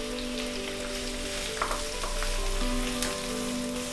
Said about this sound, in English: We will fry them until they are golden brown.